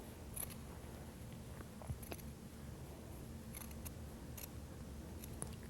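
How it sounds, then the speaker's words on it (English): Scissors snip open the neckline of a sweatshirt between rows of stitching, cutting through a single layer of fabric. A few faint, crisp snips stand out over steady low background hiss, close to the microphone. "we've got to cut our neckline open"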